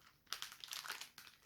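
Crinkling of a plastic bag as a Sony SRS-XB33 Extra Bass Bluetooth speaker is unwrapped, close crackly rustling in two bursts separated by a brief pause.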